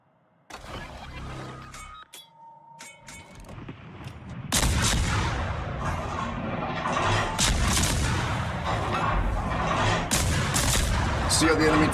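Enemy warships open fire in a naval battle game, bursts of gunfire and booms rolling in densely from about four seconds on after a sparser, quieter opening, loud and continuous with engine-like rumble beneath.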